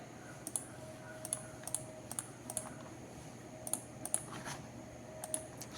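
Sharp computer clicks, roughly a dozen crisp, irregular taps spaced through the stretch, faint and close over a low steady room hum.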